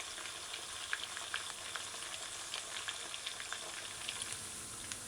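Fish pieces fry in a pan for a baked beans stew, giving a steady, gentle sizzle with scattered small pops and crackles, alone and moderately quiet.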